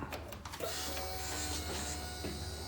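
Electric whir of a Slingshot's fuel injection pump priming before start after sitting unused for about a year, a steady mechanical hum with faint ticking at first, running unbroken and close.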